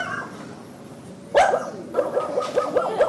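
A dog barks once loudly and nearby, then gives a quick series of yips and whimpering barks in an uneven rhythm, with no other sound competing.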